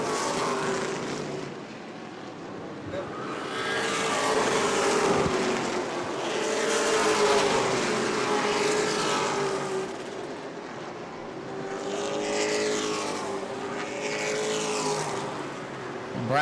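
Race cars roar around an oval track at New Smyrna, engine sound swelling and fading in repeated passes as cars approach and recede, with a faint commentator voice in the background.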